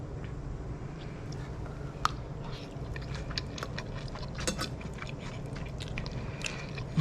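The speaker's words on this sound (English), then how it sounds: "Let me try this spaghetti bolognese first." Someone eats spaghetti bolognese, with soft close chewing, wet squishes and small clicks of cutlery repeating steadily over a quiet room.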